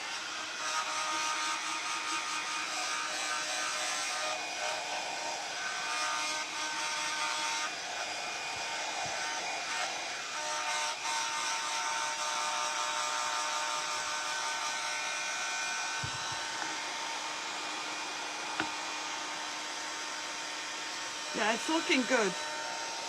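A hair dryer drones steadily at close range as it dries reverse decoupage work on a glass jar, with a brief pause partway through. Someone speaks briefly near the end.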